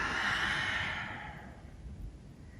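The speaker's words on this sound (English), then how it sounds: "Nice long exhale to arch back." A long, breathy exhale during a yoga practice, close and loud at first, then fading into a quiet room.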